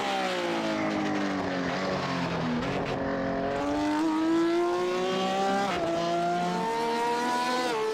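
Race cars on their final qualifying laps in a Porsche Sport Class race, engines droning loudly and steadily throughout with rising and falling pitch as cars pass close by, no talk over it.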